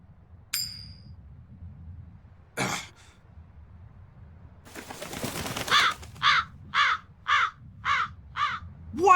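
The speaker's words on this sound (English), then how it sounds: "That crow just flew off with the coin!" A crow in the Tales of Berseria game gives a rough caw, then after a pause a burst of flapping wings, and then a run of six evenly spaced harsh caws that build toward the end.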